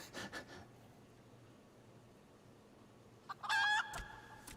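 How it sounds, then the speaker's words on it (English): A chicken in the video game Final Fantasy XIV gives a few short clucks, then a louder burst of crowing clucks near the end, fairly close against a quiet background. "The chicken."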